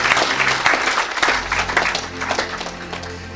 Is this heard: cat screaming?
no